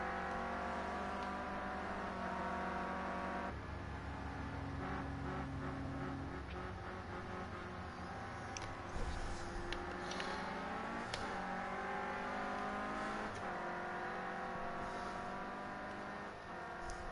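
Touring race cars in a racing video game pull out of the pits at the Silverstone Classic round, engines droning and rising in pitch as they accelerate, with steady overlapping motor noise throughout.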